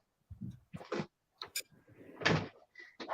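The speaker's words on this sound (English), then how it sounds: "Yeah, I better shut the door." A door being shut indoors, heard as a series of close knocks, clunks and brief rattles spread unevenly over a few seconds, with no voices.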